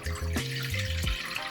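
Water poured for Neapolitan pizza dough, a short close splashing and trickling with a rising liquid gurgle, alone and fairly quiet.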